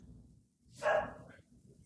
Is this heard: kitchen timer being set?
no